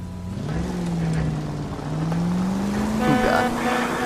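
A car drives in the video game L.A. Noire, its engine droning steadily and rising slowly in pitch, with a brief squeal near the end over a constant rushing background.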